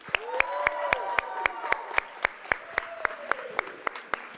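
Audience applause for a monthly award winner at a Masonic charities honors event, with steady clapping lasting throughout alongside the voice of a person talking.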